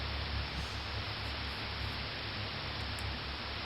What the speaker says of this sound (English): You guys hear static?